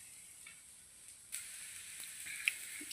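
A moong dal pesarattu frying in a pan with very little oil on a gas stove gives off a soft, steady sizzle. The hiss grows slightly louder partway through, with no talking over it.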